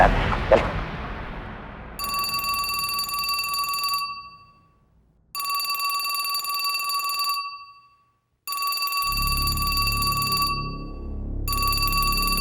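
A mobile phone rings in repeated electronic bursts, each about two seconds long and separated by short silences, clear and close, with a low rumbling background under the later rings.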